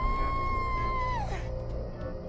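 A woman's scream from a horror movie, a sustained high, flat wail that slides downward and fades out, with a thin, unconvincing tone and faint background sound.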